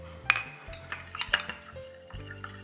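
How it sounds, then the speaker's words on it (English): One egg being beaten in a bowl with a utensil, light irregular clinks and scrapes of metal against the bowl, close and fairly quiet with no speech. "Next, I'm going to beat 1 egg taken in a bowl."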